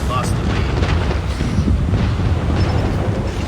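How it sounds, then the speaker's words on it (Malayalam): Continuous heavy rumbling explosions from an air strike in the Call of Duty Mobile video game, loud and sustained throughout with a steady roar and occasional blasts. "എയർ സ്ട്രൈക്ക് വിട്ടിട്ടുണ്ട്. ഇത് വരുന്നുണ്ട്."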